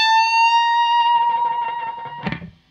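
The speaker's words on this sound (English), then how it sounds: "I'm doing a whole step bend here at the 17th fret of that E string." A distorted electric guitar note bent a whole step at the 17th fret of the E string, a single high sustained tone that wavers and slowly fades, ending with a short scrape of string noise.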